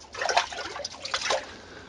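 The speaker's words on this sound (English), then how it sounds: "And now look, it's filled with water. You can see that, splash around a bit." Water sloshing and splashing in a flooded water meter pit, a short close burst of trickling and splattering as the water is stirred by hand.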